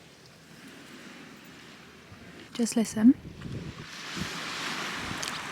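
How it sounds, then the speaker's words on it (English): Waves wash onto the beach at St Ives on a quiet autumn day, a steady broad rush mixed with wind on the microphone; a voice speaks briefly partway through. "All you can hear is the waves crashing on the beach, and that is literally it."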